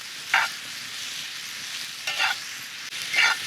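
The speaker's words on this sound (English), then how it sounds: "So I'm just mixing them around good, getting them all mixed with the meat good." Potatoes and meat sizzle steadily in a cast iron skillet, broken by three scraping stirs of a utensil through the food, close and loud.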